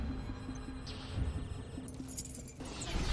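Car keys jingle and clink lightly in a movie scene, faint and close over a humming electronic beeping background, with a brief metallic rattle and a low rumble near the end.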